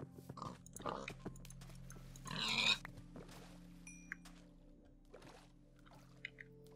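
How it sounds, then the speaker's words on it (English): Pigs grunting and oinking in a Minecraft-style survival game, several short grunts scattered over a quiet background with a brief louder squishy burst, no speech. "Damn it, pigs, get back here."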